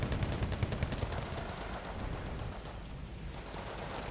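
Machine gun fire in the war strategy game Wargame Red Dragon, rapid rattling bursts strongest in the first second, then fading into a softer continuous wash of distant gunfire.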